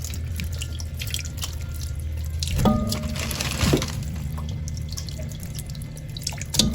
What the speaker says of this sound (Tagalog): Hugasan lang natin ito guys.